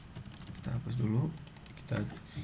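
Rapid clicking of keys on a computer keyboard, quick light taps in an uneven run, with a voice talking over part of it.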